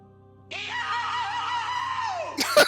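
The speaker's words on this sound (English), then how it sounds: "There was a little Soundboard to scream." A soundboard scream effect blares out in one sustained, shrill wail lasting about two seconds, played loud over a quiet background hum and ending in a short burst of noise.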